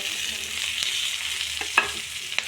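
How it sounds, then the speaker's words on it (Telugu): Cashews, slit green chillies and curry leaves fry in hot oil in a pan for pepper rice, giving a soft steady sizzle broken by a few sharp stirring clicks, close by and without speech. "10 ముంతమామిడి పప్పులు వేసుకొని ఫ్రై చేసుకోవాలి"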